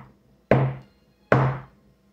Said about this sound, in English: before you walked into the chief mess, you had to knock 3 times